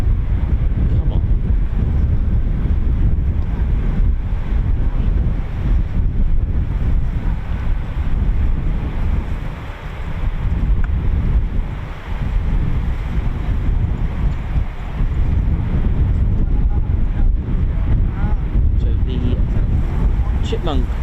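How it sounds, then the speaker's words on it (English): Strong gusting wind buffets the microphone outdoors at an RAF airfield, a loud continuous roar with brief dips. "That wind is actually worse than what it is, man."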